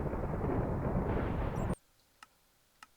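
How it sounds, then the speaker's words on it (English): Heavy thunder rumbles loudly, then stops abruptly partway through. Two faint, sharp clicks follow in near silence. "I'm sorry about that thunder."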